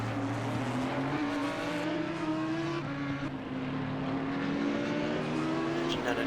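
A GT4 race car howls through Circuit Catalunya in a racing video game, its engine droning loud and steady with pitch rising and dipping through gear changes and corners, tires faintly squealing, with no talk over it.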